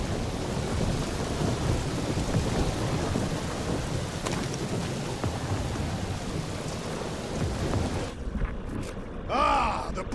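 Thunderstorm with heavy rain in Guardians of the Galaxy, a dense roar of downpour and rumbling thunder that fills the scene, then cuts out near the end, where a brief voice is heard.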